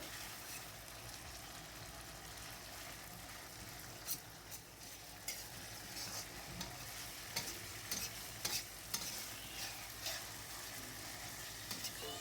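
Spice paste for seblak noodles frying on a stove, a continuous hiss of sizzling with scattered clinks and scrapes of stirring, close and steady with no voices.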